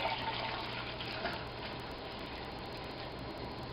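Beer pours straight from a carboy into a glass, a steady close liquid splash and trickle that runs unbroken throughout with a faint underlying hiss.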